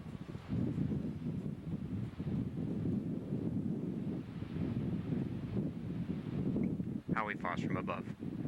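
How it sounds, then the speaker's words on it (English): Strong Iceland wind buffets the microphone in a constant low roar with gusty swells throughout, joined near the end by a brief higher-pitched burst. "And always the wind."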